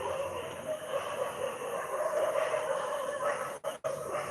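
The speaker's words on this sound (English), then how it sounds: "There are some dogs that live here and they keep fighting." Dogs fighting and barking nearby, a continuous muffled jumble of growls, yips and whimpers with a couple of sharp breaks near the end.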